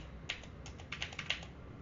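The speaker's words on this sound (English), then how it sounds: "I'm just typing it so that the location is not there when I open my screen" Soft computer keyboard typing during a raid-zone game session: a handful of light, quick key clicks in an irregular burst, fairly faint and close with no voices.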